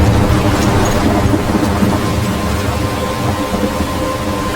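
A thunderstorm in the video game Life is Strange, a loud continuous wash of rain under a deep rolling rumble of thunder that fills the whole stretch, with no voices.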